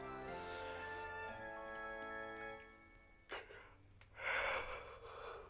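A character in Paper Mario: The Thousand-Year Door lets out a drawn-out voiced yawn that slides downward in pitch, followed by breathy huffs and short clicks over quiet game background.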